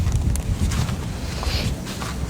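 Steady wind buffets an outdoor benchrest shooting range at 25 meters, a continuous low rumble of gusts against the microphone with faint rustling, no voices.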